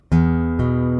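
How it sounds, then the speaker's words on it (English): A guitar sounds a harmonic at the 7th fret of the open bottom string, plucked twice in quick succession. The ringing tone sustains evenly between and after the plucks. It is close and loud, with no voices. "that harmonic at the 7th fret on the open bottom string"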